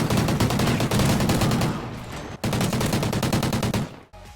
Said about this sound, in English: has to be the Remington R5 from Ghost. Such a great gun and such a great sound